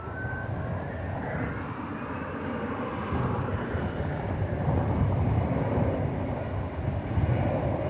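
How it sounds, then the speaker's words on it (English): An American Eagle Embraer 175 jet at DFW Airport gives off a broad, distant engine roar that slowly grows a little louder, with a faint thin whine above it. "Flight 3450 to Fargo is an Embraer 175."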